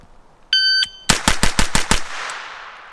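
A 16-inch 9mm rifle fires a rapid string of about seven sharp, loud shots close by after a brief electronic beep from a shot timer, with the reports ringing out afterward.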